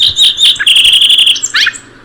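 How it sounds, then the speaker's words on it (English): A song sparrow sings close and loud: a few sharp introductory notes, then a rapid buzzy trill and a closing jumble of chirps, about two seconds in all, with no voices. "your song sparrow is typically the first bird that you put on your list"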